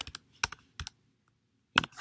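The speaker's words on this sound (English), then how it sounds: "My keyboard's sticking on my new MacBook Pro, it's a little annoying." Bursts of clicky keystrokes on a new MacBook Pro keyboard with sticking keys, tapped in short clustered groups with quiet gaps between, close and fairly crisp, no speech.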